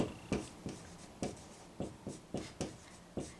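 Chalk or marker strokes on a board during an accounting lecture, a series of about ten sharp, evenly spaced taps and scrapes, close and moderately loud, with no talking.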